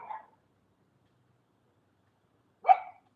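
A dog gives two short, sharp barks a few seconds apart, moderately close, with silence between them and no talking.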